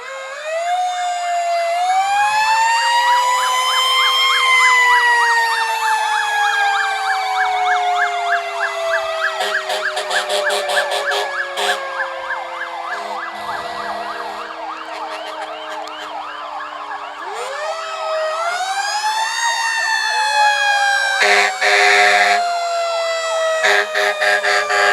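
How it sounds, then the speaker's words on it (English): Austintown Fire Department fire trucks in a Fourth of July parade, sirens wailing loud and close in long rising and falling sweeps, with bursts of horn blasts layered over them. "We're joined by more fire trucks of the Austintown Fire Department."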